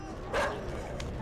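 Dogs barking in the video game Inside: a couple of sharp barks, the first loudest, heard at middle distance with no talk over them.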